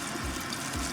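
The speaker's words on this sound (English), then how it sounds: "So I'm rinsing it" Tap water runs steadily and close over tie-dyed fabric being rinsed in a sink, a continuous loud splashing rush with no voices.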